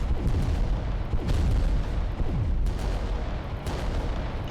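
Titan weapons firing in the Adeptus Titanicus: Dominus video game, heavy booming shots repeating every second or so over a constant loud rumble of battle noise, some with descending whistling tails.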